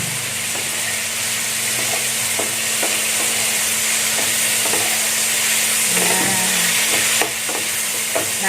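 Prawns cooking down in a pan with tamarind sauce and spices until caramelized, a steady loud sizzle with occasional scraping stirs and spatters, no voices over it.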